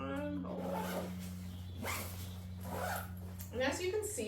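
A zipper on a Cotopaxi Allpa duffle travel bag is pulled in several quick rasping strokes at close range, with a steady low hum underneath.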